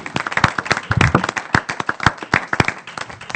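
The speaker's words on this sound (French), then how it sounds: "Alors on peut vraiment acclamer le Seigneur" A church congregation claps and applauds for the Lord, many hands striking in quick, dense bursts close by, with no talk over it.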